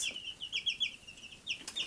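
Barred Rock chickens cluck in a series of short, bright calls with soft rustling between them, moderately distant and fairly quiet.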